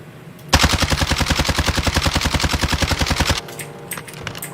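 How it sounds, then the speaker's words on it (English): Rapid automatic gunfire in Call of Duty: Warzone, a single sustained burst of close, loud, evenly spaced shots lasting about three seconds, then quieter scattered sounds. "I'm just gonna keep taking shots."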